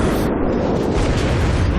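Torpedo striking the stern of a US Tier 5 Omaha cruiser in World of Warships, a loud, close explosion with a deep booming rumble that sustains for nearly two seconds.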